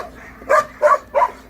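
A dog barks three times in an even rhythm, with short, fairly loud, close-sounding yaps and quiet gaps between them.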